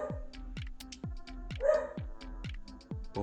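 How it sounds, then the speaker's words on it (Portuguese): A dog barks repeatedly in a steady rhythm, about seven sharp barks at close range with no talk over them. "o cachorro não tinha outra hora pra latir"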